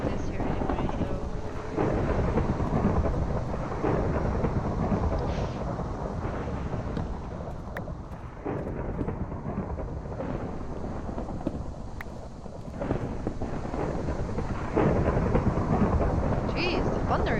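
Thunder rumbles through a Minecraft storm with a tornado, a long loud roaring wash of low noise with rain and wind, steady and close throughout.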